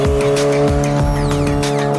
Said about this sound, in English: Here comes Dave in the NSX